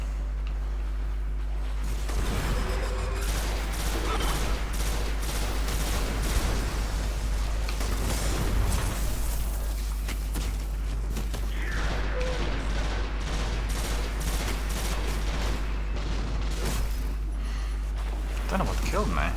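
Gunfire in the Destiny video game, dense continuous bursts and rapid shots over a constant low rumble, with occasional louder pops.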